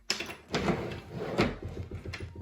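A rusty drawer on a second-hand piece of furniture slides open or shut with two scraping pushes, close by, with no voices.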